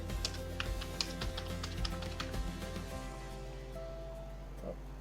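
Keys clattering on a computer keyboard while text is typed into an online taxpayer registration form, a fast irregular run of light taps for a few seconds that then thins out, fairly quiet with no talking over it.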